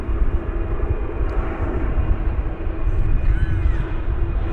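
An airplane arriving at DFW Airport roars with a loud, steady broadband rumble that stays close and constant throughout, with a faint crow-like call briefly audible above it.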